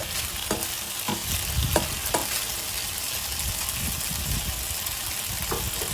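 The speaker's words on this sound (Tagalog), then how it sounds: "ito yung stir fry natin ang ating beef" Marinated beef stir-frying in a hot pan, with a steady loud sizzle throughout and periodic scraping stirs of a utensil, no voices.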